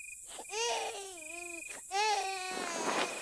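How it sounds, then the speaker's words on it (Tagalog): A baby wails loudly in a series of long, rising and falling cries with brief breaths between, close and alone at night. "Pareho kaming nabulabog ng isang palahaw na iyak ng isang sanggol."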